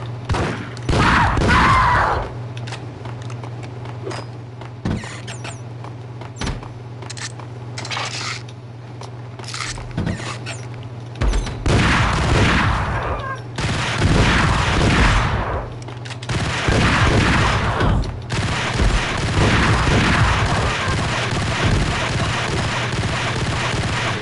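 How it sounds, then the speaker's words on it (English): Rapid bursts of gunfire in Max Payne, a PS2 shooter, come in loud, clattering volleys with scattered single shots and metallic clinks between them, and no talking. "How many fucking shots can you fire at once?"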